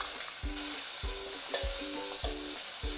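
Ground masala for a Tamil-style vegetable kurma sizzles in hot oil while a spoon scrapes and stirs the pan in steady strokes about every half second, close and fairly loud, with no voices.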